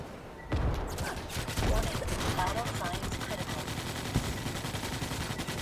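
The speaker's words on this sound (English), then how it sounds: "We're getting shot at." Dense, rapid video-game gunfire rattles continuously after a sudden start, with machine-gun bursts and scattered louder shots layered together, constant and close, while voices talk over it.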